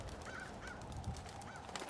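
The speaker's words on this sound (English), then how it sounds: "That's a lot of crows." Several crows caw in Fallout 4, their harsh calls spaced out across a short stretch over a dense, noisy game ambience of wind-like hiss, sounding moderately near.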